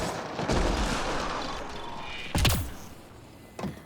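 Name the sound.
turret firing in video game Mass Effect Andromeda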